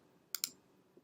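Two quick mouse clicks land close together while flipping through Lightroom photo-editing presets, followed by a fainter third tap. The clicks are crisp and near, with no one speaking.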